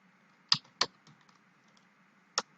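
A few sharp computer keyboard keystrokes while code is typed, three distinct clicks spaced irregularly over a quiet background, close and crisp.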